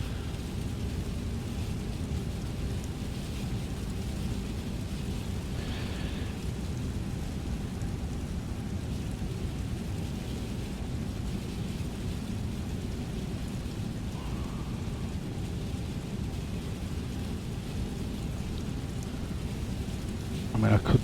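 Storm rain with rumbling thunder in an Airbus A320neo flight simulator, a constant dense hiss of rain over a low continuous rumble, steady throughout with no clear voices.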